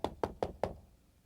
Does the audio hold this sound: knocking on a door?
yes